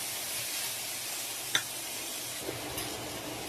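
Taro leaves (kochur shak) frying in a pan give a steady, soft sizzle with a couple of light stirring clinks, close and alone.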